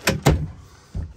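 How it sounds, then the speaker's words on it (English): A wooden drawer in an RV is pulled out in a quick motion, giving two sharp knocking clacks followed by a softer thump as it comes free, loud and close with no talking. "I'll just take this drawer out over here"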